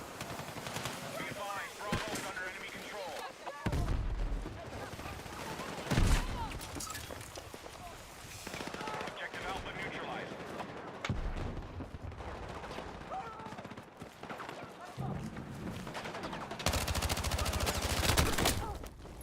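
Rapid bursts of video game gunfire crackle in a dense, loud mix, with sustained automatic volleys and explosive blasts.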